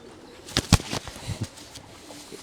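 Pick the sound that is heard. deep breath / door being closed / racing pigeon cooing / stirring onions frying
racing pigeon cooing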